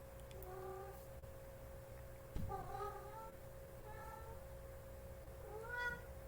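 A house cat meows several times in short, rising calls spread across a few seconds, fairly close and moderately loud in a quiet room.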